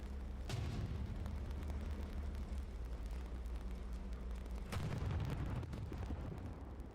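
In the video game Hell Let Loose, tank shells strike an enemy tank, with two heavy booming impacts and rumbling aftermath at moderate distance.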